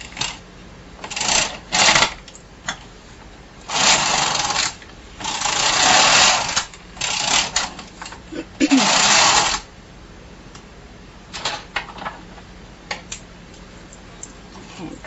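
A Bond knitting machine carriage running back and forth across rows of waste yarn, giving several loud, rasping passes of a second or so each, separated by pauses and quieter clicks.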